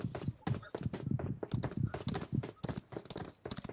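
Horse hooves clip-clop in a quick, steady rhythm, close and loud, with a continuous run of hard strikes on the ground.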